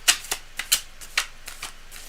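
A deck of tarot cards is shuffled in a series of close, crisp riffling bursts at an uneven rhythm, with no talking.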